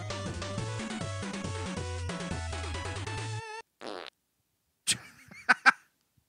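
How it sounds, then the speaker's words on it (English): Chiptune music from the Knight CG platformer plays, then after a pause come several short, loud, sputtering cartoon fart noises from the game, isolated and close. "Well, he does fart."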